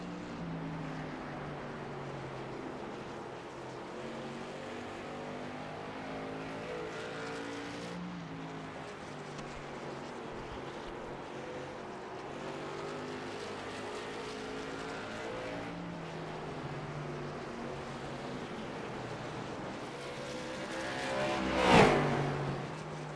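Race cars in the iRacing game run a qualifying session at South Boston in traffic. Several engines drone and shift pitch at a fairly quiet level, and near the end one car passes close with a brief rising, loud roar.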